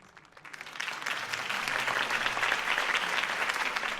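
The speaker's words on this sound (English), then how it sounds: "If only Mr. Wayne, my campaign's largest backer, could have heard that applause" A video game crowd breaks into applause, starting faint and swelling within a second into loud, dense, sustained clapping that continues steadily to the end.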